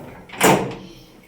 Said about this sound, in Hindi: कुंडी लगाओ